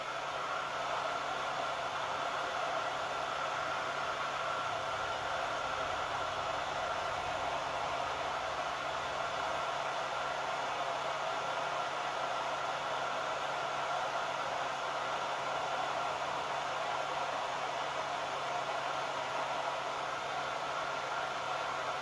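A hair dryer blows steadily and loudly on a Santa belly ornament to dry it, with a constant whooshing hum holding at the same level through the whole stretch and no talking.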